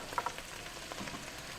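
Sausage frying in a pan with freshly added onions and ginger, a faint, steady sizzle with a few soft clicks near the start, heard alone without talk.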